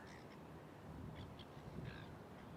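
A distant seagull gives several faint, harsh calls in short bursts over a steady outdoor background hiss, with no talking.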